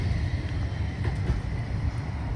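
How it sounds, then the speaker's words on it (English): A tram rolls past along the Blackpool shoreline, a steady low rumble of wheels on track at moderate distance, continuous for a couple of seconds with no talking. "Another tram."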